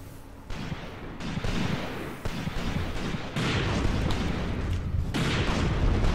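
Artillery fire in the war game Graviteam Tactics: Mius-Front rolls on as dense, repeated booming blasts and distant gunfire, loud and sustained with several sharp onsets.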